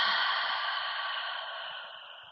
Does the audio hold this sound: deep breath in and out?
yes